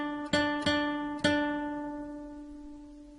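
A guitar plays the same note three times at the third fret of the second string, each pluck ringing out and slowly fading, clean and alone.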